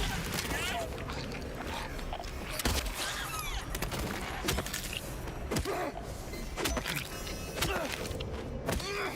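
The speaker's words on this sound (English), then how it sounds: "so let's get the shotgun out" Gunfire from the shotgun in the video game Silent Hill 2 Remake: sharp thumping blasts repeat across a dense, busy mix of game sounds, ambience and music, with a voice talking over it.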